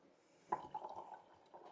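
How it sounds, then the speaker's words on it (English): Wine pours into a glass with a faint, close glugging trickle that starts abruptly and then runs on quietly in small bubbling pulses, with no voices. "I'm pouring wine"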